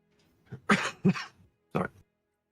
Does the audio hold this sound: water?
no